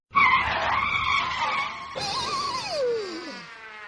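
Cartoon vehicle skidding with a loud, sustained tire squeal that falls in pitch near the end, heard alone with no talk over it.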